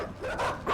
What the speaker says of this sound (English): Shut up, dogs.